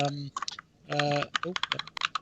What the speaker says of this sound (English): I think it's Peter typing.